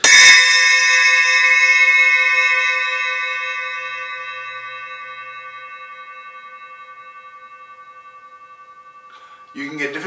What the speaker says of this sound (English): this is a Stagg, S-T-A-G-G, 6-inch, a Stagg cymbal bell